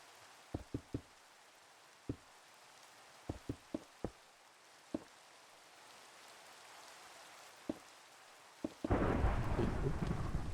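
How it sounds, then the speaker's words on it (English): Thunder rolls through a Minecraft world, with several sharp cracks of lightning striking at intervals before a loud, broad rumble takes over near the end. "Thunder and lightning."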